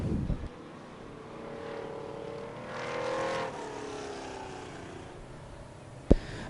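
Race cars roar around Merrittville Speedway as one car loops on the turn. Continuous engine drone swells and fades as cars pass close by, ending with a sharp knock.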